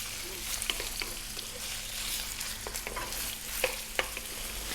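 Onion frying in a pan over just above medium heat, a steady close sizzle broken by sharp scraping clicks as it is stirred around.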